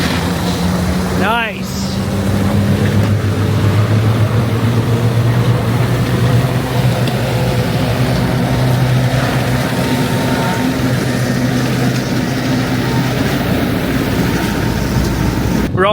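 A farm truck engine runs in a farming video game, a steady low hum holding an even pitch for the whole stretch. A brief sweeping whoosh comes near the start, and a voice speaks briefly over the engine.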